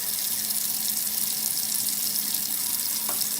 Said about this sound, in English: let's go ahead and wash our hands